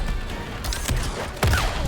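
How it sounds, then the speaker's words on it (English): Robocop's crowd control cannon firing in Mortal Kombat, a gunshot-like blast with a small explosion, two sharp bursts over a busy game background. "the crowd control cannon, which gets a little explosion"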